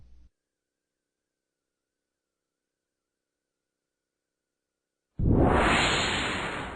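A single loud whoosh sound effect for a text animation bursts in after a long silence and slowly fades over its final second and a half.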